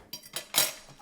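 Pan being washed with detergent and a sponge at a sink, three quick scraping, clattering bursts of metal, the last one loudest.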